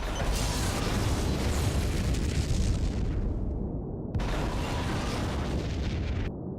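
Roaring explosion of a destroyed Borg vessel in the Star Trek Legacy space game, a dense, loud, sustained blast with crackling debris that cuts off abruptly twice, continuous for several seconds.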